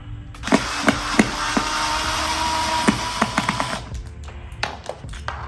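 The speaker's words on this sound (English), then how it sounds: "I'm just going to unscrew this, remove the screw" A screwdriver unscrewing a screw from a door's hardware back plate during a DIY doorknob and hinge upgrade, with several sharp clicks and scraping turns close by over a steady background hum, the clicks growing quicker toward the end.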